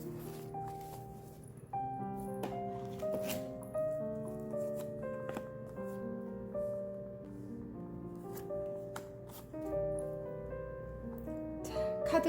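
Playing cards shuffled and drawn by hand, soft repeated slides and flicks scattered through the clip under quiet background music.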